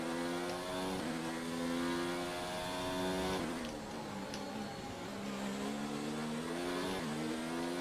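A Williams Formula 1 car in the F1 2019 video game screams along at high engine power. Its pitch climbs and drops sharply at each gear change every second or two, heard steadily and fairly quietly with no voices.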